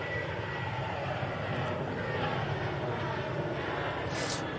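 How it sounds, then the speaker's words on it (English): A Ryanair Boeing 737-800 jet departing for Cologne roars steadily at a moderate distance, a broad, continuous engine rumble with a faint hiss and no speech over it. "We'll catch us Ryanair going out first, though. This is going out to Cologne. Nice little flight there on the 737-800."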